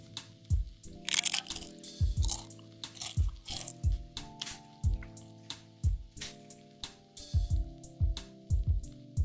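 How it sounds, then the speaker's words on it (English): Someone chews a spicy sweet chili Dorito close to the mic, with repeated loud crisp crunches in a steady chewing rhythm and no talking. "Some ASMR here, me crunching on a Dorito."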